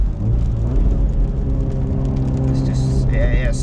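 A stage 2 tuned Volkswagen Golf Mk7 R with over 400 bhp spins its wheels under hard acceleration, producing a loud, steady roar of engine and tyre noise with a thin rising whine near the end.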